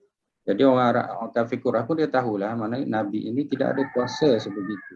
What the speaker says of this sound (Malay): Masya-Allah, ada dengar suara ayam berkokok.